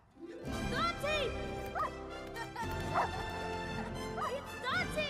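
Dante, the dog from Pixar's animated film Coco, yips, whimpers and barks: a string of high, bending yelps and whines comes close and loud, repeated in quick bursts over a steady soundtrack bed.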